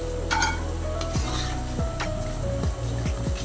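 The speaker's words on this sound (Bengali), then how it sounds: "একদম লাল লাল করে ফ্রাই করতে হবে।" KFC-style chicken popcorn deep frying in oil, a steady loud sizzle broken by repeated scraping and stirring knocks of a utensil against the pan, with no voices.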